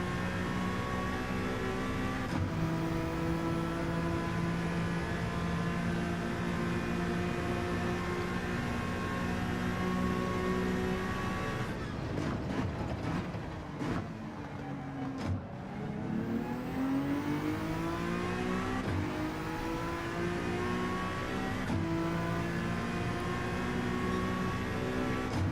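A race car engine in the racing video game Gran Turismo 7 runs loud and steady with whining harmonics, then drops off as it downshifts and climbs again through rising revs, continuous over about twenty-five seconds.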